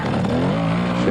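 A Yamaha Majesty 250 trials motorcycle revs close by in a short, loud burst, the engine pitch wavering up and down at a trials event.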